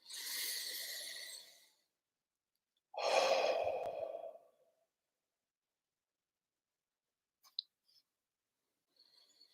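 Two slow, deep inhalations during a Reiki breathing exercise, each long and breathy, up close and separated by silence, followed by a few faint clicks.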